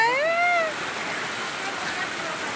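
Steady monsoon rain hissing and pouring close by, continuous and fairly loud, with a voice briefly over the start.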